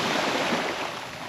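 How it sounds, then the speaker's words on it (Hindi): Large ocean waves at Kala Pathar Beach on Havelock Island, a loud continuous broadband wash of surf with steady roar and slight wind, no talking. "लहरें बड़ी बड़ी आ रही हैं, पानी का लेवल काफ़ी बढ़ रहा है।"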